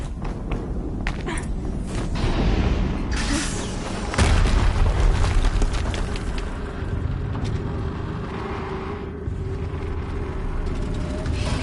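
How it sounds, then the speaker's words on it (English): Explosions in the video game Horizon Zero Dawn: deep, rumbling booms with heavy low thuds, one swelling around the middle and another hitting hard a couple of seconds later, over a constant dense roar of game noise. "Another explosion."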